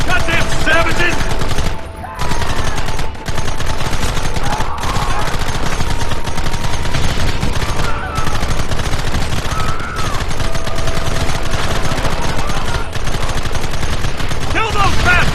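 Rapid gunfire rattles almost nonstop in a Red Dead Redemption shootout, loud machine-gun bursts and scattered shots layered with game noise and brief shouted voices.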